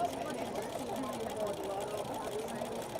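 A domestic sewing machine stitching free-motion thread drawing, a fast, even mechanical whir with rapid needle chatter, steady and close, running under a woman's speech.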